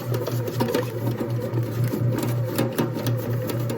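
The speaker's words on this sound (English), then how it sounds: "completely made in the bread machine" A bread machine kneads cinnamon yeast bread dough with a loud, close, continuous mechanical whirr and a steady rhythmic churning pulse.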